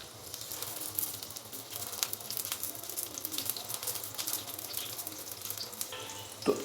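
Chicken and lentil shami kababs fry in a pan with a steady crackling sizzle, occasional pops rising above the hiss and a louder clink near the end.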